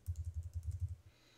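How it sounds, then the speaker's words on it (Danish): Fingers tap a computer keyboard entering a card number, a quick run of about a dozen soft, evenly spaced keystrokes, close and fairly quiet, ending in a near-silent pause. "her kan I taste jeres kreditkortnummer"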